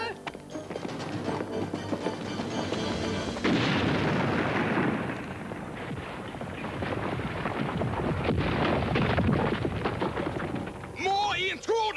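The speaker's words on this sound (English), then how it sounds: "It's the other grenade! The one James dropped!" A grenade blast in an animated James Bond Jr. action cartoon, heard as rumbling, crackling explosive bursts and debris clatter sustained over several seconds, loud and close, with a voice shouting briefly at the end.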